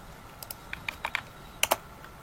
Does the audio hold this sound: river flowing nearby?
no